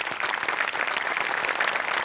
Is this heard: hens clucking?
no